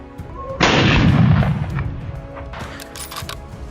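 A single loud, close gunshot goes off during a wild boar hunt on a farm, followed by a long rumbling echo that fades over a couple of seconds, with faint rustling afterward.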